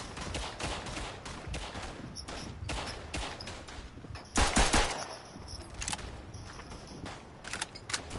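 Rapid bursts of automatic gunfire from a favored weapon in a World War I shooter game, dense rattling volleys with a louder, closer burst near the middle and scattered shots around it.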